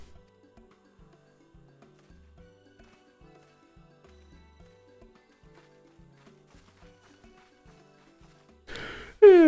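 A game character in Final Fantasy XIV gives a drawn-out, falling yawn at the very end, after a long near-silent stretch of soft footstep taps.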